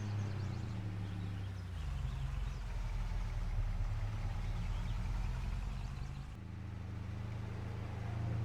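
A truck engine drones steadily while driving in Farming Simulator 22 on a Missouri map, with a low hum that shifts pitch a couple of times as gears or speed change, continuous and fairly loud.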